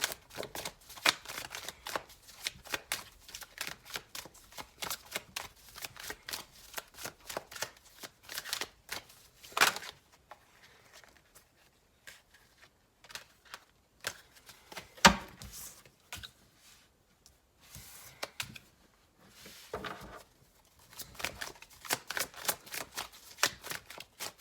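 A deck of tarot cards is shuffled over and over for a Gemini reading, with dense, rapid papery riffles and snaps in bursts, a quieter lull midway, then more brisk shuffling close up.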